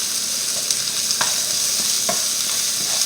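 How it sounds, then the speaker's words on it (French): Garlic, onion and shallot fry in a pan with meat juices, giving a steady close sizzle broken by a few soft stirring scrapes and clicks, with no talking. "je vais faire revenir mon ail, mon oignon et mon échalote"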